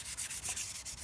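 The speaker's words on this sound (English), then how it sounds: "I actually want to kind of sand that oil and make sure it's nice and smooth" Hand sanding an oiled wooden sculpture on a work table, a few quick close scratchy strokes in a rhythmic back-and-forth with no speech.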